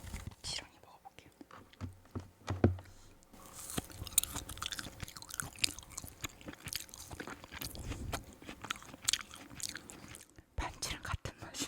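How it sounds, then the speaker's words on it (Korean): Frozen gummy worm jelly candy chewed close to the mic, with soft squishy bites, crunches and wet smacking in an irregular rhythm, under faint whispered talk. "지렁이 먹어볼게요."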